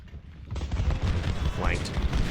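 Gunfire and artillery rumble from a battle in the video game Ultimate General: Civil War, with a dense, continuous low roar of distant booms and crackling shots, plus a brief whistling tone.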